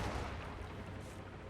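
Heavy mortar firing in the strategy game Power Struggle, a dense, low rumbling barrage of booms that rolls on continuously through the short moment, fairly faint and distant, no talking.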